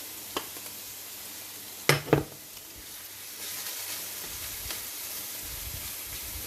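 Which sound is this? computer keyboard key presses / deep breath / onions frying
onions frying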